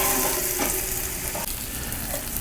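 Fondant potatoes fry over direct heat on a charcoal grill with a loud, continuous close-up sizzle and a brief clack partway through.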